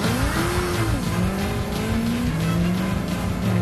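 A car coming fast on a driving course, engine roaring and rising in pitch with tire squeal, loud and continuous as it nears, no talk heard.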